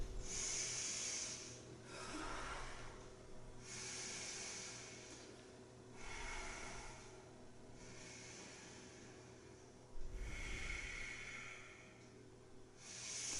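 Slow, steady breaths while holding a yoga pose come as soft airy inhales and exhales, repeating about every two seconds, close and quiet with no talking.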